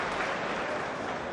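A crowd applauds steadily after a shot during a 2004 World Pool Championship quarter-final match, a dense, even patter of clapping with no one speaking.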